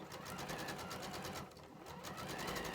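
A sewing machine runs steadily while stitching a quilting seam on a project bag with a longer 2.5 mm stitch, a continuous fast whirring needle rhythm, close but quiet.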